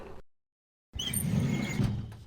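A drawer slides open in the video game Tex Murphy: The Pandora Directive: a brief cut-off scrape, then a silent gap, then a fuller sliding rumble of about a second and a half, heard alone.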